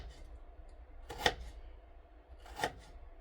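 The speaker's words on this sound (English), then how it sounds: "this is how I'm cutting my Irish potato" A knife cutting through an Irish potato on a board, two crisp, close chops spaced over a second apart against a quiet kitchen background.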